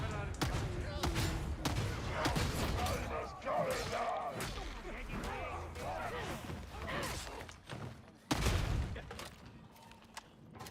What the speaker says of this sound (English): Just the execution shot like that. I love the bolt pistol.